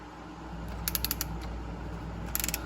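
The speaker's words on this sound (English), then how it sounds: "I like how you can still ratchet it" Several quick bursts of light clicking from a ratchet wrench turned on a Chevy 283 engine, close and fairly quiet over a steady low hum, with no talk.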